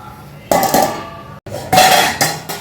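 A lid is set onto a cooking pot of masoor curry, producing a few loud metallic clanks and rattles in quick succession, close by, with a brief pause between the knocks.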